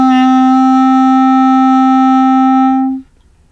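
A clarinet sustaining a single note D, one steady, loud, close tone held for about three seconds and then cut off into silence.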